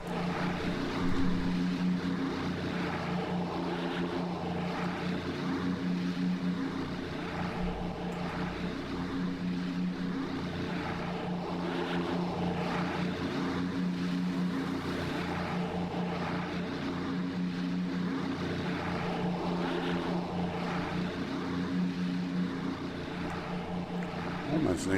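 A warbird propeller aircraft in Microsoft Flight Simulator drones past in a steady, loud engine roar with a droning hum that holds for the whole stretch, as if heard from a chase camera, with no clear change in level.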